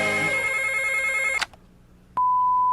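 A telephone rings in an old prank call recording, its bell trilling steadily for over a second and stopping abruptly, followed by a click and a clear dial-tone hum.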